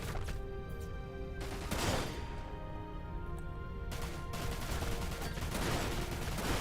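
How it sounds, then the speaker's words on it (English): Rapid bursts of enemy gunfire in the video game Dirge of Cerberus: Final Fantasy VII, repeated volleys over a steady background of game sound and music, fairly quiet overall. "Stop shooting me"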